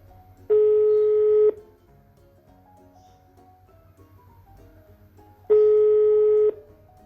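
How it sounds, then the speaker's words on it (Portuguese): A landline telephone's tone sounds as two identical steady beeps about a second long, spaced several seconds apart over a low hum, each a pure pitched note near A. "antigamente a gente afinava um instrumento como o violão com o sinal de linha dos telefones fixos, que é um Lá"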